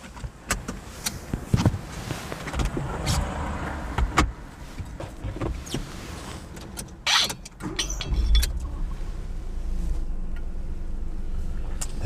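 A learner's car on the drive to the Hendon and Mill Hill test centre gives a steady interior road and engine rumble with scattered clicks and knocks, a short whoosh partway through, and a low drone building toward the end.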